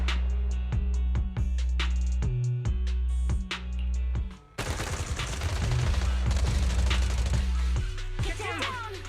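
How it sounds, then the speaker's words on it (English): Bursts of rapid gunfire from the Zenless Zone Zero video game: repeated sharp staccato shots, then a dense, sustained fusillade of suppressive fire over low rumble and effects. "Gunfire? This pattern. Suppressive marching fire."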